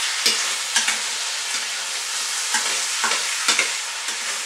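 Chilli con carne sauce with mince being stirred in a pan, with a steady hiss of sizzling and about seven or eight scraping spoon strokes at an uneven rhythm, close and fairly loud, with no talk.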